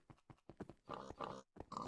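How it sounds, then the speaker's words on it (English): A Minecraft pig makes a few short grunting oinks, then longer squealing calls in close succession, loud and alone with no one talking. "Yeah, we even have a pig."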